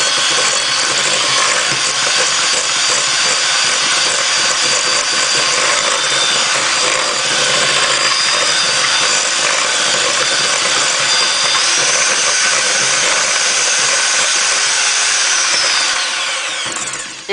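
Butter and brown sugar creamed together with an electric mixer, a loud, steady whirring drone running without break for the whole stretch, then easing off at the very end.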